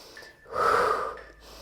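An audible exhale during a floor glute exercise with a resistance band, one broad breathy push of air rising and fading over about a second, close and fairly loud, with no talk over it.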